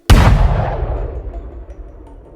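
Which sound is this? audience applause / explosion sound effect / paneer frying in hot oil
explosion sound effect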